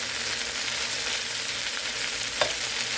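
Garlic butter shrimp frying in a pan, a continuous hiss of sizzling oil with faint crackles and one brief sharper pop near the end, close and steady with no voices.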